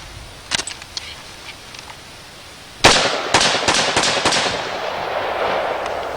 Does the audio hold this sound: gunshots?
yes